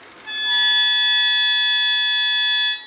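A harmonica plays two notes a second apart, making difference tones. The sustained, piercing reedy tone swells in quickly, holds steady and loud for about two seconds, then fades. No one speaks.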